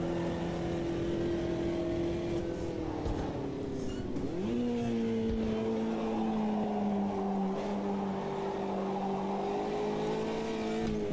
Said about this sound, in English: I can hear most of the sound in my right headphone of the engine